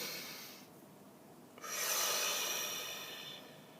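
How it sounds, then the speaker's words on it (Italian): A slow, deep shamanic breathing exercise: a soft, airy inhale swells and then fades away, close and intimate, with no talking. "Facciamo come di consueto il nostro respiro sciamanico"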